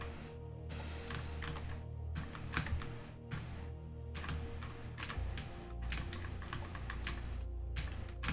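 Fingers rattle across a small computer keyboard in quick, uneven bursts of clicking keys, close and steady, with a constant low background hum behind the clatter.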